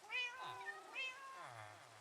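A blue-eyed cat in the Minecraft video game gives two or three clear, close meows in quick succession, rising and falling, with nothing else audible.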